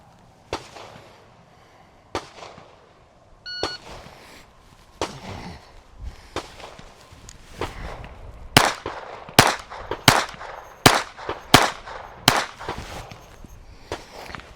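Sharp gunshots crack from a small pocket pistol on a police qualification course: a few spaced shots first, then a quicker string of about eight loud reports near the end, with faint footsteps or handling between them.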